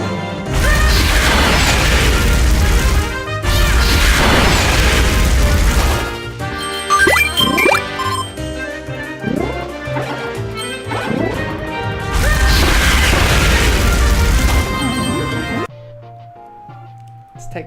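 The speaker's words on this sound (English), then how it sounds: "if you swallow a glowing fire enemy, you get this powerful attack that covers the whole screen with destruction" Kirby's fire ability screen-wide explosion attack in Kirby's Adventure on Wii, loud roaring blasts of crashing destruction in long bursts with chiptune music between them, under a voice speaking.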